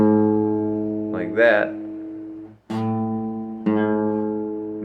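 An open A string on a guitar, slightly out of tune, is plucked several times. The notes ring close and sustained with a rich harmonic tone, and the middle strike is loudest. A brief spoken word comes between the notes.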